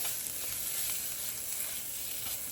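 Tomato paste, seasonings and spices including cardamom sizzle in a pot for Cincinnati chili, a steady, fairly quiet hiss with faint crackle continuing evenly throughout, no talking.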